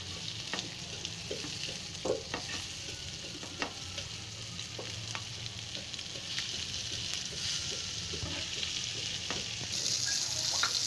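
Masala-coated fish fries in a pan with a steady, moderate sizzle, broken by occasional crackles and pops, and swells slightly louder toward the end, with no talking.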